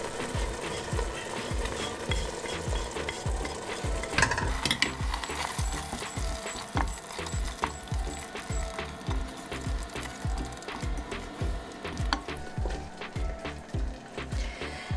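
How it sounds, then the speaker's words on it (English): Spices and tomatoes frying in a pan for Punjabi chole, a steady sizzle with a regular rhythmic clicking running through it, close and continuous with no speech. "Now we're going to let the spices cook together for a couple of minutes."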